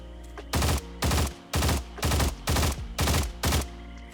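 Heavy gunfire from a firearm in the shooter game Stalcraft, loud and close, fired in seven evenly spaced short bursts about half a second apart with deep booming impacts.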